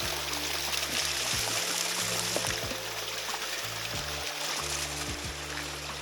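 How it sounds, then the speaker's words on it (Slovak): A small brook near Šútovo lake in wintry, freezing conditions, giving a steady broadband rush of flowing water throughout, with low hums and faint clicks underneath. "Takže malý potôčik tu nejaký tečie, asi nebude sám, bude ich tu viac."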